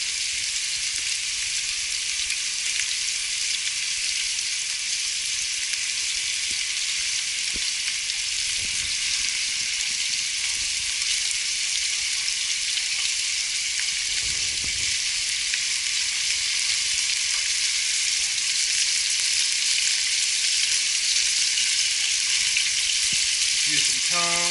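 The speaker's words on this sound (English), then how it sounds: "It's got to simmer for about 3 hours so all the meat comes straight off the bones." Beef short ribs for a braised ragu simmer in a pot, giving an even, continuous sizzling bubble that holds steady for the whole stretch with no voices.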